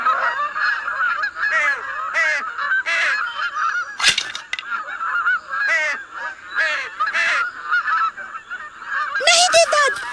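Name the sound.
bird (swan) honking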